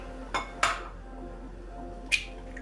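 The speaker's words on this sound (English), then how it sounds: "My 2 eggs, I'm gonna crack them into a separate bowl" Two eggs are cracked into a separate bowl while making chocolate chip cookies: three short, sharp taps of shell against the bowl, two close together and one after a pause, over quiet room tone.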